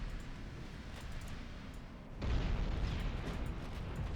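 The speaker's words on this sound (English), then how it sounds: "Rhea is desperately shooting her guns at whatever she can." Warship guns firing in the naval battle game Ultimate Admiral Dreadnoughts, faint rumbling booms at first, then a heavy burst of gunfire at about two seconds swells into a sustained, loud roar of continuous firing.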